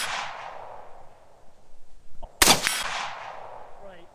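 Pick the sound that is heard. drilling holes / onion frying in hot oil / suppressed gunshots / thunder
suppressed gunshots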